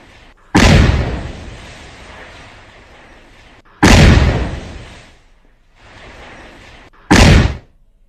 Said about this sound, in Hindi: त्राल में आसिफ शेख का घर धमाके में उड़ गया।